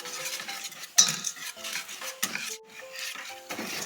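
A spoon stirs a keto-friendly drink mix sweetened with a zero-calorie sweetener, giving a quick run of close, bright metallic clinks and scrapes against the cup, with brief pauses between bursts.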